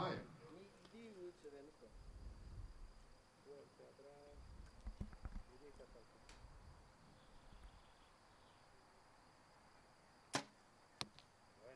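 Compound bow arrows thud into the target at a women's archery gold medal final, two sharp hits near the end after quiet crowd murmur and low voices.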